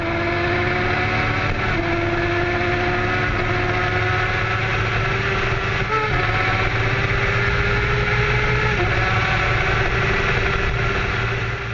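A motorcycle engine runs steadily, fleeing police at high speed on a highway, heard as a constant close drone. Its pitch climbs and drops back in repeated gear-shift steps.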